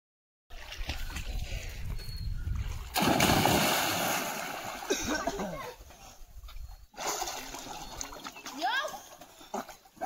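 People jumping into a village swimming pond send up a big splash and then sloshing water, with chatter and shouting voices throughout and a second, smaller splash near the end.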